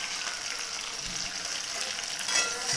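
Tomatoes go into a pan of onions and cumin frying in oil, giving a steady loud hiss and sizzle up close, with a brief stir or clatter partway through.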